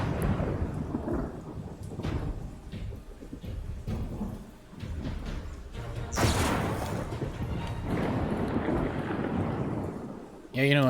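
Thunder from a lightning bolt spell in Pathfinder: Kingmaker rumbles and crackles steadily, with a louder crashing surge partway through and rain-like hiss under it.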